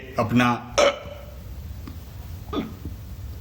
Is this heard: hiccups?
yes